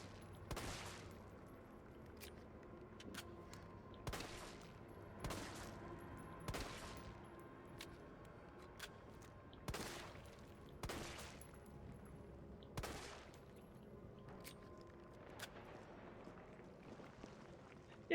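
Gunshots in the Resident Evil 3 Remake, fired at an enemy's body: a dozen or so sharp, evenly spaced shots at moderate volume over a quiet low background.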